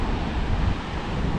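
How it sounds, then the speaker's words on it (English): Rough ocean surf at a beach on a rainy day, heard from a distance as a loud, unbroken roar of waves mixed with heavy wind buffeting the microphone. "Ocean looks rough from here."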